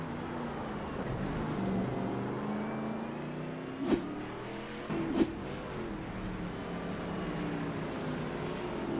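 Race cars circle a track, their engines a steady, fairly distant drone with two brief louder surges as cars pass close.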